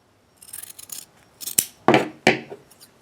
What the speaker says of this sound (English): Now I'm going to take the scissors.